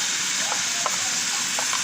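Small-cut chicken gizzards stir-frying in a pan over the stove fire, a steady close sizzling hiss with a few light scraping clinks from stirring, no voices.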